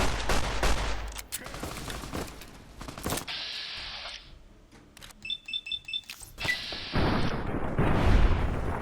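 Rapid bursts of gunfire in Fallout: New Vegas, loud and close, stacked into dense volleys with brief lulls between them and a final stretch of heavy firing.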